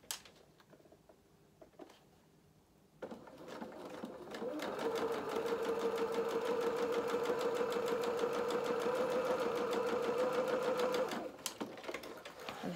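A sewing machine runs a row of gathering stitches on a doll dress, starting after a few quiet seconds of handling noises, then whirring in a steady rapid rhythm for about eight seconds before stopping.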